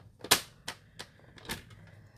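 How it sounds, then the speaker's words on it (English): A paper trimmer's cutting blade slices through cardstock during card making, giving a handful of sharp, dry clicks and short scrapes. The strongest snap comes early, followed by three fainter strokes spaced unevenly, all close and otherwise quiet. "I'm just going to use my cutting blade now."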